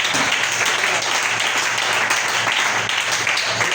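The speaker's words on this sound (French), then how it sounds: "Faites acclamer le Seigneur." A church congregation applauds in acclaim of the Lord: steady, dense clapping from many hands fills the whole stretch at an even, loud level.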